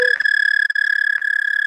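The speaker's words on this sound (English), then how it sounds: "And it was the sound of a toad called the American toad." An American toad trills in a backyard at night, a steady high-pitched continuous purr lasting throughout, loud and close, with no other sounds beside it.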